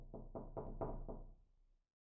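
Five steady knocks rap on a door in an even rhythm, close and moderately loud, then fade into silence.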